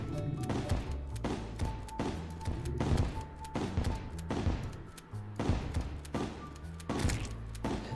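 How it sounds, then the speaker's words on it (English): A shotgun firing exploding bullets in Terraria: about ten fairly quiet, punchy shots at a steady rhythm, each a short thump with a crack, over faint tonal game sounds, with no voices. "Let's make sure we've got our exploding bullets in first."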